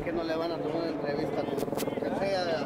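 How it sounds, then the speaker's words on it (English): A helicopter overhead at a migrant caravan in Mexico, a steady throbbing rotor drone running throughout beneath a person talking. "There's another chopper above."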